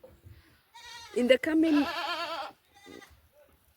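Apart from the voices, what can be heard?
goats bleating on a Kenyan goat farm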